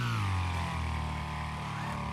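A small lawnmower engine screams along at high speed in the racing game Wreckfest, a loud sustained droning rev that dips slightly early then holds steady, with no talking over it.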